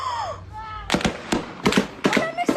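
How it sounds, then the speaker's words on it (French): Burst of sharp gunshots from a played recording of shooting in the Minguettes district, several cracks in uneven clusters, loud and echoing, with a faint voice at the start. "Wallah ça tire. Oh, mais ça tire."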